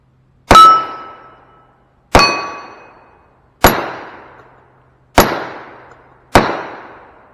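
.45 Colt revolver shots fired offhand at an outdoor range, five sharp loud cracks spaced about one and a half seconds apart, each ringing out with a short decaying tail, no talking.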